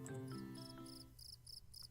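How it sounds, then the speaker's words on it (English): Crickets chirp in the video game Take a Hike, a steady rhythmic series of high pulsing trills that fade in as a musical tone dies away, soft and somewhat distant. "Crickets."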